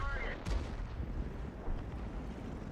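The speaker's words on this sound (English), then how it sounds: "Now we'll get another shot in on the Chieftain Proto, which he does" A World of Tanks cannon shot fires from a tank, giving a low, heavy boom near the start over dense rumbling battle ambience, with a second softer thump later and faint talk beneath.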